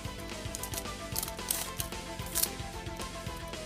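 A Pokémon XY7 booster pack being torn open, with a series of close crinkling rips and sharp foil tearing bursts, no talking.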